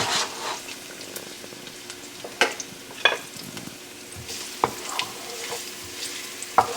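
Garlic frying on high heat in olive oil in a pan, a soft continuous sizzle with occasional sharp clicks and taps of stirring, close and fairly quiet.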